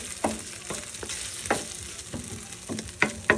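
Meat browning in a hot pan for cow fun noodles, a constant sizzle and crackle broken by repeated scrapes and taps of a spatula against the pan, close and fairly loud.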